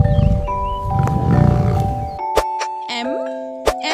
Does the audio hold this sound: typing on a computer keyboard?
no